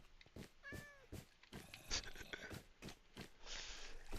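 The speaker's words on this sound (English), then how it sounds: "Watch out, kitty cat, you might get smushed." A cat meows in Minecraft, a few short, quiet game-sound mews mixed with soft clicks and footsteps, heard at low level with no talking.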